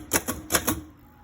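A Remington Rand Deluxe Model 5 typewriter clacks out four quick, crisp keystrokes in two pairs, close and clear, then falls quiet.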